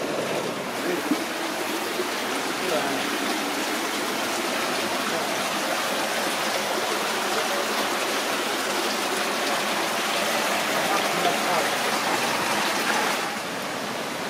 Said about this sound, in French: on voit bien l'eau de source donc qui jaillit de la montagne et qui se mélange à l'eau qui ruisselle de la montagne